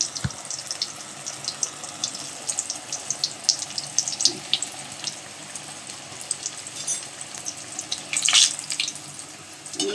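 Pumpkin slices and a few chilies sizzle in hot oil for pakora, a steady crackling fry with faint bubbling and a brief louder burst near the end, no voices over it.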